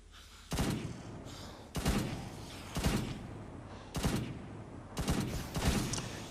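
Rifle gunshots from the Roblox game Zombie Mayhem, about six sharp reports fired in a steady rhythm roughly a second apart, some doubled, each with a short booming tail over a constant game background.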